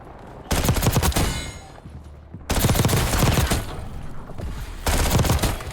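Automatic gunfire in the Call of Duty Warzone video game, three loud, close bursts of rapid shots about two seconds apart, each ringing out briefly before the next.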